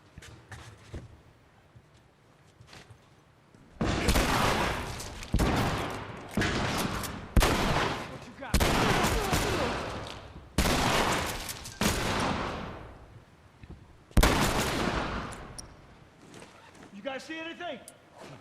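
Gunfire in The Last of Us Remastered on the Grounded difficulty, at Tommy's Dam: repeated loud bursts of shots and fusillades in uneven volleys, each ringing out and decaying, with character voices speaking between them.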